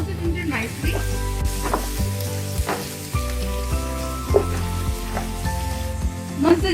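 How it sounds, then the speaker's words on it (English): Grated and julienned ginger roasting in a pan for Punjabi chole, a steady sizzle running underneath as someone talks with background music. "So roast the ginger nicely."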